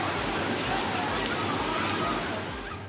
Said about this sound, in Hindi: रास्ते पर पानी की धारा देखकर धोखा न खाएं, ये न तो नदी है और न ही नहर है